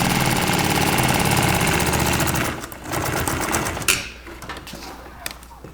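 A sewing machine stitches boat canvas in a steady, rapid mechanical whir for about two and a half seconds, then slows, stops and restarts briefly as the fabric is handled.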